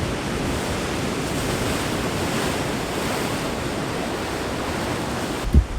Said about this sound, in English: with the waves that are coming in, if you take a look over here, they're gonna kind of rock off this rock jetty